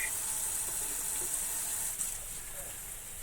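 Tap water runs steadily from a kitchen faucet while hands are washed at the sink, a continuous close hiss with small splashes and no talking.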